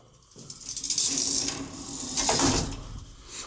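Old Warner traction elevator machinery at a historic hotel running steadily, a continuous mechanical whir and hiss with faint ratcheting texture, swelling and easing over a few seconds with no talk.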